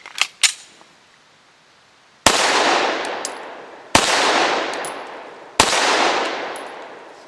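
Smith & Wesson SD9 VE pistol firing Fiocchi 92-grain composite copper rounds outdoors, several sharp loud reports with long rolling echoes, preceded by a couple of small metallic clicks.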